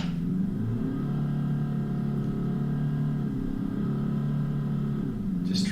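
An off-road vehicle's engine strains up a wet, rutted hill at Tallarook. It gives a steady low mid-pitched drone with small shifts in load and no talking.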